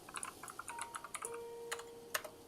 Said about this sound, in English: Let me type it out for